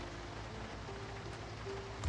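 Rain in the zombie survival video game Project Zomboid, a soft, even patter of drops on surfaces that continues steadily under a faint low hum, with no one speaking.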